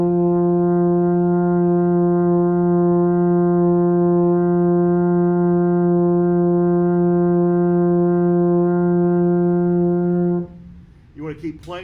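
A baritone horn holds one long, steady F note for about ten seconds, loud and close, before the tone cuts off and a voice begins speaking.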